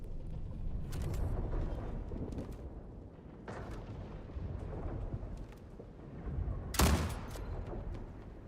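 Rifle fire in the space shooter Star Citizen: several loud, booming bursts a few seconds apart, with a sharp, heavy shot standing out near the end over a dense rumbling backdrop.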